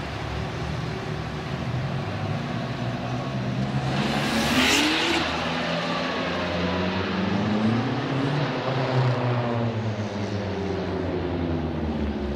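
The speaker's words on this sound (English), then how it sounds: "big burnout performance from both of these guys" Race cars, including a Corvette, doing burnouts at a grassroots drag race: loud engines revving and holding high with a roaring surge midway, steady tire spin noise throughout, close and continuous with no talk.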